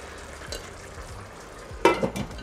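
A sizzling filling with parsley being stirred in a pan over lowered heat, a quiet steady fry broken by soft scrapes and a louder clatter of spoon against the pan near the end.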